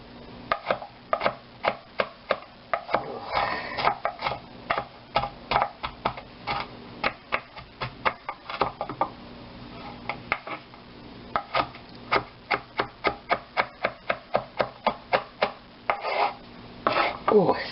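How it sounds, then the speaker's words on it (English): Knife chopping a shallot on a board in a home kitchen while cooking steak au poivre, as a long run of quick, crisp, steady taps with brief pauses and occasional louder clusters. "we need to chop up another shallot"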